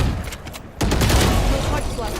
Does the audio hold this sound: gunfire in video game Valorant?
yes